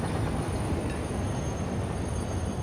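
A train in the factory-building game Satisfactory rumbles along loudly and steadily, with a continuous rolling roar and a faint high whine riding on top.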